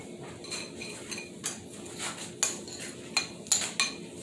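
Sugar, cinnamon and nutmeg are stirred together in a bowl, the spoon scraping and clinking against its sides in a series of sharp taps that grow louder toward the end.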